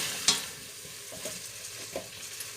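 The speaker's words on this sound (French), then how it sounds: "dès que le beurre est fondu, on va ajouter le chou-fleur" Cauliflower goes into melted butter in a pan, with a soft continuous sizzle and a few scattered stirring scrapes and knocks, close and fairly quiet.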